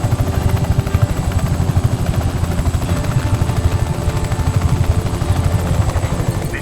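A helicopter in Just Cause 3 thumps loudly and close, its rotor blades beating in a fast, steady pulse over a constant engine drone.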